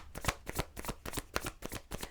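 A deck of tarot cards is shuffled and pulled close up, making a quick rhythmic run of crisp riffling flicks and soft slaps with no talking.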